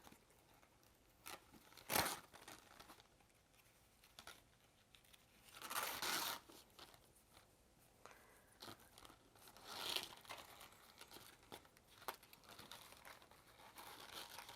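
Ribbon is pulled through a handmade accordion mini album with soft crinkling, rustling paper and fabric scrapes. Louder pulls land in several bursts over quiet handling noise.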